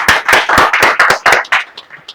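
An audience of teachers from across Delhi claps at an education event. The applause comes in close, uneven bursts of hand claps for a couple of seconds and then thins out.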